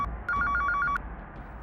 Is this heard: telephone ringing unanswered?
yes